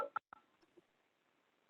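A telephone keypad dials a few short DTMF tones, quiet and spaced apart, over near silence.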